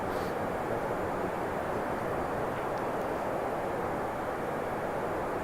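Engine noise of an airliner in the X-Plane 11 flight simulator game, a steady, even roar like a cabin drone that holds unchanged throughout with no talk.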